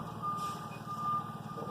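A moving truck's reversing alarm beeps outside an apartment complex in an evenly spaced, steady series. It sounds moderately distant and fairly quiet, with low engine rumble underneath.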